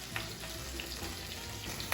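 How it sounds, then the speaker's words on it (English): Arancini rice balls frying in hot oil, a steady close sizzle and crackle running the whole time with a few brief louder pops and light stirring. "she is going to do the frying because it scares me"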